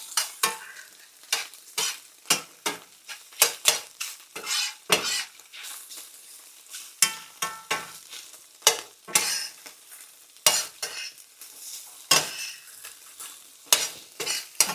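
Eggs sizzle in a pan as a utensil stirs and scrapes them in quick, irregular strokes, a close run of bright scraping bursts over a soft frying hiss, with no talking.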